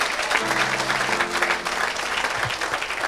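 Dense applause from a church congregation at an evangelistic service, a loud sustained wash of clapping with a faint tonal hum and murmurs underneath.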